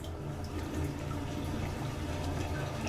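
Water drains steadily with a low gurgling rush in the What Remains of Edith Finch game, a faint continuous flow without talk.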